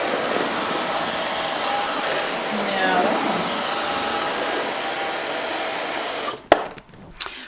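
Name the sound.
JIMMY JV9 Pro Aqua vacuum cleaner running on parquet floor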